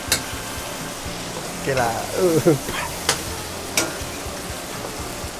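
Food being stirred and fried in a hot pan, with bursts of scraping and sizzling around the middle and a couple of sharp clanks of the utensil against the pan, while someone talks briefly in a steady kitchen hum.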